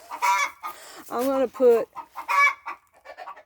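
Backyard chickens cluck and squawk in short repeated bursts close by, while someone talks over them.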